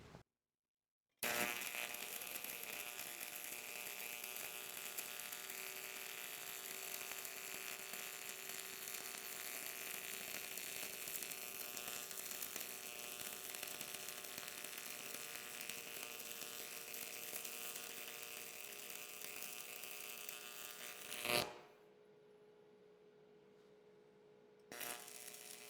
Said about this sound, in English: switch my welder to weld on AC like a tombstone welder